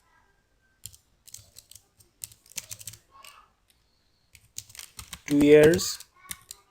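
Light, scattered clicks of typing on a computer keyboard, tapped in short irregular runs near the listener, with someone speaking briefly in between.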